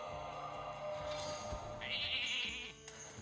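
Sheep bleat triggered by a polymorph card in the Hearthstone video game, a short wavering cry standing out midway over dense game music and effects.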